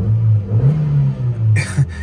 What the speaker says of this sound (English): I haven't got a rev counter, but I'll give it a rev anyway.